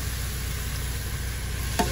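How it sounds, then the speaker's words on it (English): Mushrooms sizzle steadily in a frying pan as it is deglazed while cooking in a truck, a constant close hiss with a brief sharper burst near the end. "That's gonna deglaze the pan, guys."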